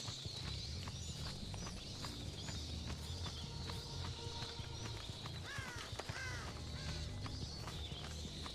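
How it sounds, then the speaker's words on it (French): Crows caw in the Dead by Daylight game, a few short harsh calls rising over a steady, busy game ambience with soft footstep-like thuds and low rumble. "Y'a un corbeau qui a volé là-bas."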